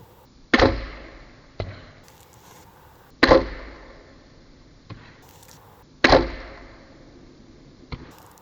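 Three arrows shot one after another at three separate targets in an archery session, each loud sharp thwack of impact followed about a second later by a fainter knock, evenly spaced with no talking.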